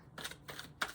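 Three quick papery bursts of tarot cards being shuffled by hand, close and soft, each lasting a fraction of a second.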